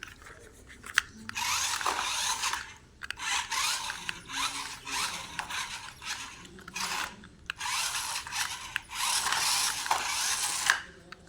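A remote-control toy car's small electric motor whirs loudly in repeated bursts of a second or two, separated by brief pauses, with no voices.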